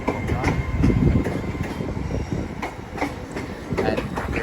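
A Class 387 electric train pulls out of Didcot Parkway station, a close rumbling roll of wheels with rhythmic clicks over rail joints and a faint squeal.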